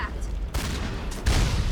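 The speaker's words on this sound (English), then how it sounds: "dude, you shot me twice" Gunfire in the video game Mass Effect, fought against Geth with a pistol: two loud blasts about a second apart over a continuous rumbling game backdrop.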